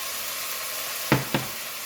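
Carrots sautéing with onions in a pan, a soft steady sizzle beneath two sharp close clinks or scrapes of a utensil against the pan, no talk.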